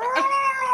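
A cat gives a single short, tonal meow, close and fairly loud, with no one talking over it.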